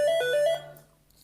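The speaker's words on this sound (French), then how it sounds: "le téléphone qui sonne." A telephone rings with a short electronic trilling ringtone pattern, a few quick bursts of tones that then cut off and leave a quiet room, moderately soft and without talk.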